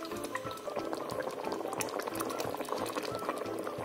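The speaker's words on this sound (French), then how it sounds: "Je mets l'eau 500 ml et je vais laisser bouillir" About 500 ml of water in a pot boils steadily for a peanut and spinach sauce, giving a close, continuous bubbling and crackling with dense popping bursts and no pauses.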